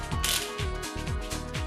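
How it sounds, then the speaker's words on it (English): A ratchet tightens the cylinder head bolts on a Bajaj Pulsar 200 NS in close, rhythmic bursts of clicking, about four strokes in quick succession, with no talk. "Remember, always tighten 4 bolts first in a crisscross pattern."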